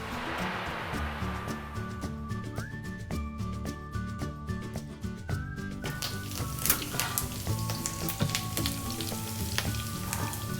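Sareed is stirred slowly in a pan over low gas, giving a steady soft sizzle with scraping and stirring noises throughout, close and continuous, while music plays along underneath.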